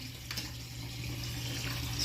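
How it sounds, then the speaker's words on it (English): Water runs steadily through a small hole in a cracked, split Glacier Bay toilet bowl, a faint continuous trickle with a low hum beneath it. "You can see the water flow going through this little hole here."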